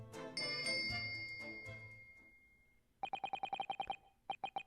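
On a ship in a game scene, a pulled bell cord sets off a bright chiming cascade that fades, then a rapid series of evenly spaced electronic ringing pulses, clear and close with no speech.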